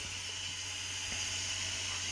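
Steady, broad hiss of steam venting from an Ambiano pressure cooker while chicken cooks, continuous and fairly loud throughout with a low hum underneath.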